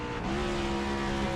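Race cars in a sim racing game on the Charlotte Roval, a loud sustained engine drone with steady pitched tones as cars run close together.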